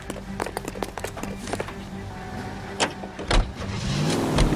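Car driving in the 1940s Los Angeles video game L.A. Noire, a steady mid-range engine drone with clicks and thumps over it and a louder rumbling surge near the end.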